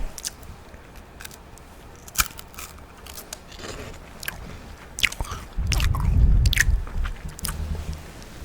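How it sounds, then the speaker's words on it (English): Someone bites into a hazelnut wafer and chews it up close, with crisp snaps and crunches scattered over several seconds and a louder, denser patch of chewing toward the end, no talking. "Hazelnut wafer."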